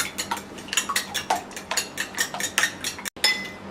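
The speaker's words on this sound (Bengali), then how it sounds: "এবার আমরা ডিমটাকে ভালো করে ফেটিয়ে নিচ্ছি।" Two eggs are beaten with a utensil in a bowl, making quick, rhythmic clinks against the side, close and fairly quiet with no talking, while preparing a coating for chicken cheese fingers.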